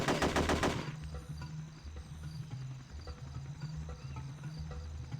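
Gunfire in a jungle level of the Hitman: Codename 47 video game. It opens with a loud, dense burst and then gives way to lower repeated shots and thumps over a steady ambient bed.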